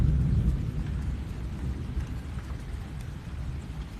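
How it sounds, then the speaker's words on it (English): A thunderstorm over Estero: deep rolling thunder rumbles loudest at the start, then fades beneath steady rainfall hissing across the whole stretch. "I love good storm"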